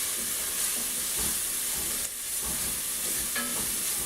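Curry paste frying in a pan: a steady loud sizzle and hiss throughout, with faint stirring scrapes and no talking.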